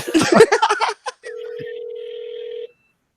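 A phone in a vintage Rainbow Brite commercial gives one long steady electronic ring tone under faint high overtones, after a brief burst of speech at the start, then stops abruptly.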